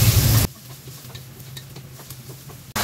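Bacon and onion frying in a pan, a steady soft sizzle with faint stirring scrapes, set between two brief louder bursts at the start and end.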